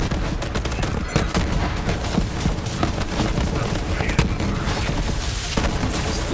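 Rapid, continuous sticky-bullet gunfire in the shooter Borderlands 3 rattles loudly throughout, with dense bursts and impacts. Voices can be heard underneath.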